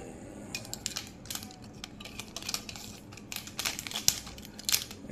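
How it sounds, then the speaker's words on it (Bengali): Plastic wrapping is crinkled and peeled off a boxed Shai Oudh attar perfume, giving close, irregular crackling bursts that come and go alone, with no talk. "আমি খুলছি র্যাপিংটা"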